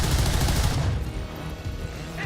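A gunshot in XCOM 2 erupts as a loud, dense blast that fills the first second, then decays into a rumbling tail.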